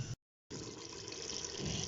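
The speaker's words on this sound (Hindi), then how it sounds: "अब इसके अंदर मैं 2 ग्लास पानी ऐड कर दूंगी" Two glasses of water pouring into achar gosht in a cooking pot, a steady close splashing stream after a brief pause, continuous and fairly loud with no talk.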